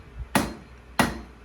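Two loud, ringing hammer strikes on metal at a traditional blacksmith's forge, spaced about half a second apart, each decaying with a metallic ring, close and alone.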